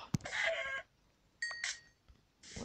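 Chicken in the video game Minecraft clucking in three short, bright bursts separated by quiet gaps, close and fairly clear.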